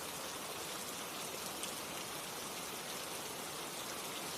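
Steady rain falling, an even, dense hiss of drops that holds at a soft, constant level with no breaks or voices.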